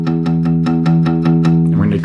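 Guitar open E string palm-muted with the fleshy part of the right hand at the bridge, struck about eight times in a quick even rhythm with dull, clipped attacks, close and fairly loud, ending in a scratchy strum.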